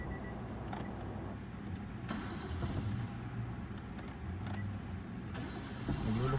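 A car engine with a faulty starter cranks and turns over, a low steady churning with a few sharp clicks and bumps, fairly quiet and close.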